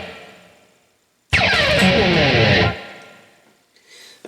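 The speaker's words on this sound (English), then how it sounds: "next up is that really cool pick slide" An electric guitar pick slide scrapes down the G string, a harsh, noisy, descending distorted rasp lasting over a second, loud and close, followed by faint fretboard noise.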